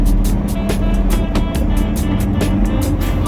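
Truck hauling nursery stock rolls into a parking lot, its engine a steady loud rumble with rhythmic ticking and rattling over the drone, no talk.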